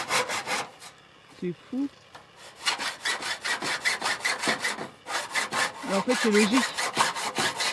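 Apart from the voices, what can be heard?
sawing a birdsmouth notch in wood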